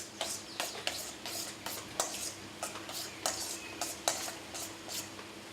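Pickle brine and salt are stirred in a bowl with a utensil, giving repeated scraping, clinking strokes against the bowl at a steady pace. The stirring is fairly quiet and close, with no voices.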